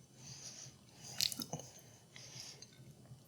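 Someone chews potato chip cookies, giving a few soft, moist crunches up close that are faint and brief against quiet room tone.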